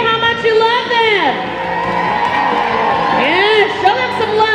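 Roller derby crowd at a Boston bout cheering and whooping for the Pissahs, a steady loud roar of many voices with rising shouts, an announcer's voice carrying over the noise.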